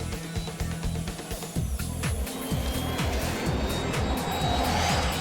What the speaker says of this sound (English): The jet is flying at 170 miles an hour.